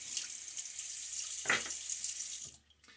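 A bathroom tap runs steadily as a shaver rinses off after a wet shave, a bright continuous splash of water with a brief louder slosh midway before the flow cuts off.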